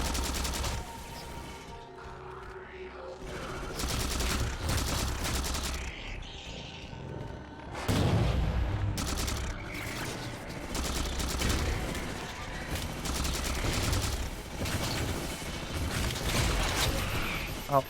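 Halo 4 combat with the new Covenant plasma rifle firing: dense, continuous bursts of weapon fire and battle noise run for the whole stretch, loud and busy, with faint voices underneath.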